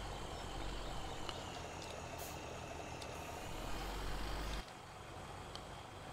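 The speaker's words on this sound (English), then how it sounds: "So this is a contest mod tractor." A contest mod tractor engine in Farming Simulator 17 runs at a steady, low, loud drone with no voices, cutting to a slightly quieter hum for the final second and a half.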